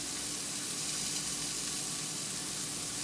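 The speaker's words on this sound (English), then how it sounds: "Alright, we're going to flip that steak." A steak frying in a pan gives a steady, dense sizzle that hisses evenly and continuously throughout, close and moderately loud, with no talking over it.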